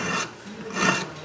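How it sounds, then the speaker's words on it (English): Hand file rasping across the metal of an Emmert pattern maker's vise under restoration, two long close strokes with a short pause between, no talking. "So that's why I'm doing the old hand file here."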